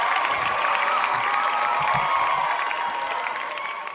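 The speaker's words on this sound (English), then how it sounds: "Clap for me, fans." A crowd applauds and cheers, a dense wash of clapping that holds steady and then begins to fade toward the end.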